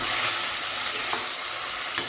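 Chilli gobi gravy simmers steadily in a pan after hot water is added, a continuous soft bubbling hiss with a few small pops, even and close throughout.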